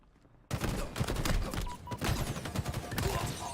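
Rapid gunfire bursts from the video game Halo break in suddenly after a quiet start, then continue as a loud, dense fusillade of overlapping shots with brief dips.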